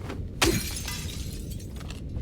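Glass shattering in the Silent Hill 2 video game: one sudden loud crash followed by a bright, fading tinkle of debris that tails off over about two seconds.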